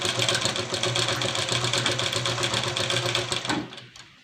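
A sewing machine runs steadily and close by, stitching a salwar with a fast, even mechanical whir. The motor slows and stops near the end, leaving a brief quiet.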